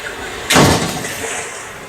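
A sliding door is pulled open with a sudden loud, broad rush of noise, followed by a sustained rumbling slide that fades gradually over the next second.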